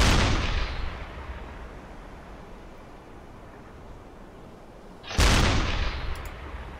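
Gunfire at a ship in the U-Boat submarine game: a loud burst opens the clip and fades into a long rumbling tail, then a second sharp, loud shot cracks out near the end.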